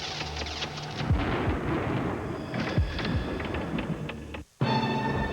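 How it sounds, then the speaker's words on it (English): A broad, rumbling roar of an approaching storm fills the scene, with thunder rolling steadily and a few sharper cracks, loud and continuous, cut off briefly near the end before resuming. "A storm rolling in"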